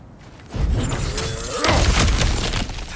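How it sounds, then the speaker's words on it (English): Heavy crash and shattering as objects are smashed through in God of War Ragnarök, a loud breaking burst that builds into a second, denser wave of debris and rumbling impacts. "back to smashing through things for fun and profit"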